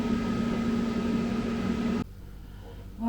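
A Ninja air fryer starts running with a steady whirring fan drone and a hum, then drops abruptly to a quieter background about two-thirds of the way through before a brief rise at the end.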